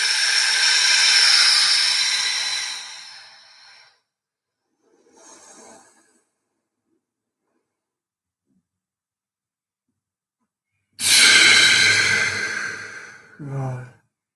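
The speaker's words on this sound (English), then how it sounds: "We're just breathing to warm the muscles up." Deep breathing to warm up the breathing muscles: a long, close airy exhale, a faint short breath, a long silent pause, then another strong breath ending in a brief snort-like catch.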